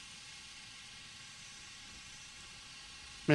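A steam locomotive in the Derail Valley game vents steam in a steady, even hiss that holds for a few seconds, ending in a sudden louder burst.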